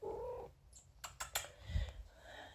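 A cat purrs low and rough up close, with a brief meow-like cry and a few light tapping clicks mixed in, and no voices.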